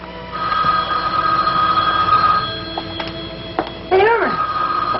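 A telephone rings in a scene from the soap opera All My Children, a sustained ringing tone running under background music and room sound, with a voice breaking in near the end.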